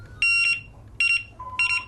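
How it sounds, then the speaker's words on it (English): An ATT electronic fishing bite alarm sounds three short bursts of high beeping tones in an even rhythm, close and clear with no talk. "Sound your alarm."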